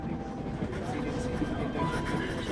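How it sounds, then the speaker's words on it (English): Steady low rumble of a train travelling inside a video game, a continuous rolling drone with faint rattles, heard alone at moderate level without breaks. "And so I'm on a train heading out of Germany"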